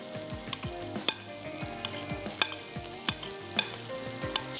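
Pasta is stirred together with tomatoes and bell peppers in a pan, giving a soft sizzle under repeated scraping clacks of a utensil at a steady rhythm, close and alone.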